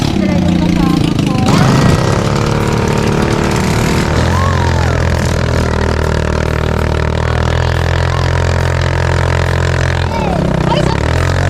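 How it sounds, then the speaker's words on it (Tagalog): A quad bike engine drones and revs continuously on a desert safari in Dubai, loud and close, with a person talking over the motor for most of the time. "dito na naman kami ngayon sa aming adventure na quad bike"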